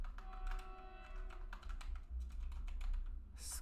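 Rapid keystrokes on a computer keyboard while writing JavaScript code, a quiet, irregular run of clicky taps with a close, soft tone and no talk.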